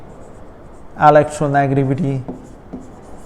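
Marker or chalk scratching on a board during a chemistry lesson on electronegativity, a soft, steady rasp running beneath a man's spoken word.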